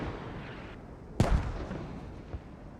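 Gunfire in the tactical shooter Squad during a Pro League match on the Kamdesh map, with a sharp loud burst of shots followed by scattered distant reports over a steady noisy battlefield background.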